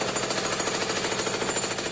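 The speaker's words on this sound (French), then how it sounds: "Marteau-piqueur," A jackhammer pounds steadily and loudly, a dense rapid hammering rhythm that holds unbroken throughout.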